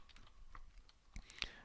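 Light keystrokes clatter on a computer keyboard, a few scattered soft taps followed by a brief cluster of sharper clicks, fairly close and quiet with no talking.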